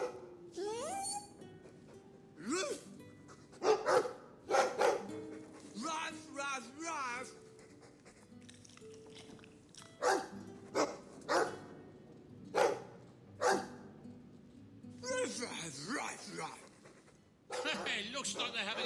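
A dog in the video game Dragon Age 2 barks repeatedly in short, sharp bursts, some close together, alongside speech and other game sounds.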